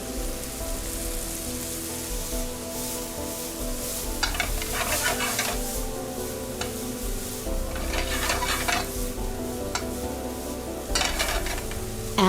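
Potato filling stirred with olive oil in a pan as Turkish kumpir street food is prepared: steady scraping and stirring under a continuous soft sizzle, with brief louder bursts of spatula scraping.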